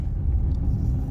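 A car driving slowly in second gear through busy traffic, a steady low engine rumble close by and fairly loud, with no voices.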